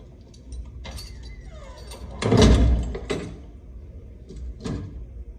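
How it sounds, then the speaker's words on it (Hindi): A door closes in a quiet indoor room with a heavy thud and a scraping slide, followed by a softer knock and a later faint bump. "जरा दरवाजा बंद करके जाना।"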